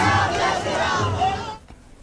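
Dense crowd roar from a packed street roadshow for CM Yogi Adityanath in Kolkata, loud and sustained for about a second and a half before dropping off sharply into quieter murmur.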